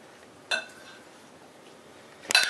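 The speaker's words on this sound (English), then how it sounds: "And then we're going to stir this up." A spoon clinks against a bowl of Texas caviar twice, one sharp tap early and a cluster of clinks at the end, with quiet scraping between.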